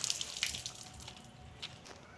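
Water poured from above over a potted guava plant to rinse it. The splashing and trickling is quiet and continuous, with soft drips and a few brighter spatters.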